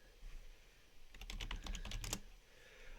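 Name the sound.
typing username and password on computer keyboard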